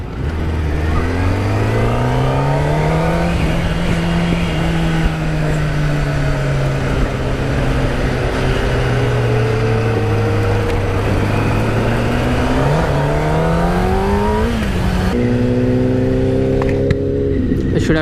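Kawasaki Ninja ZX-10R and Ducati 959 Panigale superbikes cruise on a tour, engines droning loud and steady with rising and falling revs as gears shift, heavy wind rush throughout.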